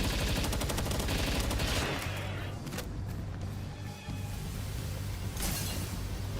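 Rapid assault rifle fire from the video game Palworld rattles loud and close in dense bursts, fading briefly before more shots crack through near the end.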